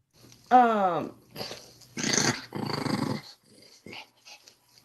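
A pet dog growls low and rumbling in a bedroom in two or three drawn-out bursts, after a brief whine-like rise, with softer breathing and shuffling in between.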